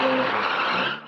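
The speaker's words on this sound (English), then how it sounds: "Drivers spinning donuts on a busy freeway before police shut down the sideshow" Cars spin donuts on a busy freeway, their tires skidding in a loud, sustained squeal with engine roar that fades slightly at the end.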